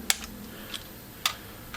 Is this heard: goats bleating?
no